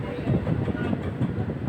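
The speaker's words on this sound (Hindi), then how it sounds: "काशीपुर जंक्शन की दिशा में, बाजपुर की दिशा में ट्रेन हमारी अब आगे बढ़ रही है" An electric train runs along the Rudrapur–Bajpur line toward Kashipur Junction, a steady low rumble of wheels and carriage noise with faint rhythmic clatter, heard close from on board throughout.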